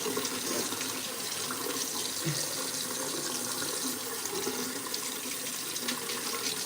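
A household tap runs steadily into a sink while a small child's feet are washed, a constant splashing rush with brief low clunks and a faint voice in the background.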